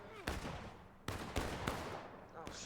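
Musket fire in a War of Rights Civil War battle on Hagerstown Turnpike, several sharp close shots with echoing cracks at irregular intervals over distant battlefield noise.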